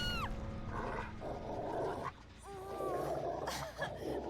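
A dog character in a video game makes a string of whining, yelping calls for attention, fairly close, with other game sounds running underneath.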